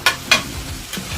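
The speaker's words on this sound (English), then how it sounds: "You want to hear that chop, chop, chop, chop, chop, chop, chop." Cheesesteak meat being chopped on a flat-top griddle with a metal spatula: three sharp scraping chops at irregular spacing, close and fairly loud, over a steady low sizzle.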